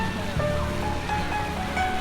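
Water fountain jets spraying at an outdoor light festival in Southampton, a steady full hiss and rush of falling water, close and continuous, with faint crowd murmur underneath.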